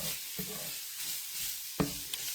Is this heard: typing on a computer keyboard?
no